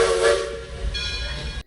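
A steam train whistle, a single loud sustained hiss-tinged blast that shifts pitch partway through and then cuts off, heard alone without voices.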